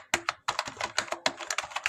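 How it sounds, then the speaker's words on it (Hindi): Rapid, close-up typing on a computer keyboard while filling in an Excel invoice, clusters of crisp key clicks in quick bursts with short gaps, ending in firmer key presses such as the Enter key. "एंटर की प्रेस करेंगे"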